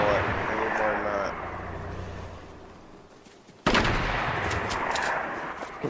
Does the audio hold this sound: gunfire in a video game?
yes